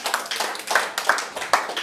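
A church congregation claps in quick, uneven rhythmic bursts, close and fairly loud, with no clear cheering voices.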